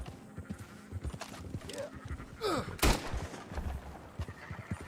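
Sheep bleating in the video game Red Dead Redemption, a few wavering calls rising over background game noise, a sharp bang near the middle, moderately close.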